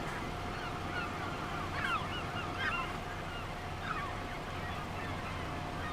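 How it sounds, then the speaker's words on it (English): Geese honk in the Farming Simulator 25 game, a few scattered calls sounding faint and somewhat distant over a low, steady ambient hum. "I think the birds add a touch of realism to it"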